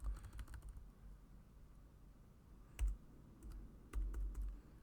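Computer keyboard typing during numeric data entry in simulation software, a few quick bursts of soft key clicks separated by pauses, close and fairly quiet against a faint room hiss.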